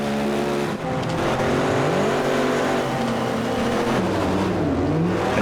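A race car engine in a racing video game roars loudly and continuously, pitch sweeping up and down through gear changes and revs, with no talk.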